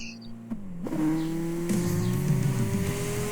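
A race car in Tokyo Xtreme Racer drives on a Tokyo expressway, its engine holding a steady drone that rises sharply after a brief dip as it accelerates, with a continuous, loud whine under it.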